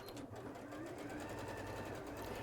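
A sewing machine runs continuously and fast while stitching the side seams of a dress, with a steady whirring, rhythmic hum at close range.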